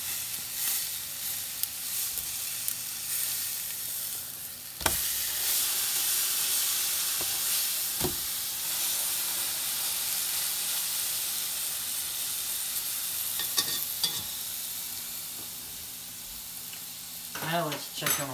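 Meat frying in a pan sizzles with a steady, loud hiss that runs on without a break, marked by a few sharp clatters and a brief spitting burst near the end.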